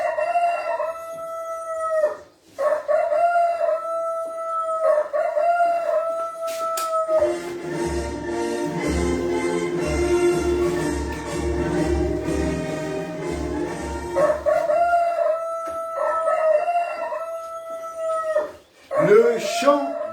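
A rooster crows in a jingle, several long bright cock-a-doodle-doo calls at the start and end around a burst of music in the middle, loud and close.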